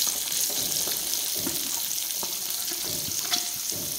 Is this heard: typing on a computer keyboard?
no